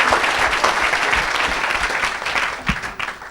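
A church congregation claps together in sustained, dense applause, loud and close, with the clapping dipping briefly near the end before continuing.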